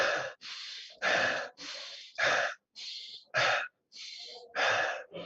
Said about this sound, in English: In the very beginning, you're experiencing chaotic breathing.